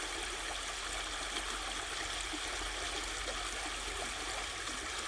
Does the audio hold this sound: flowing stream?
yes